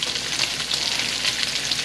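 Bacon sizzles in a pan for a Brown Derby Cobb salad, a dense steady crackle and hiss close by, with no voices.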